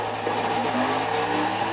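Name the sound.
car engine revving during a burnout in video game NASCAR 2011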